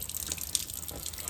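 Tap water runs steadily into a sink while dyed yarn is rinsed, a close, even splashing rush with small drips and spatters on top.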